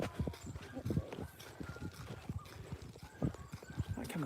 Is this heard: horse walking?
yes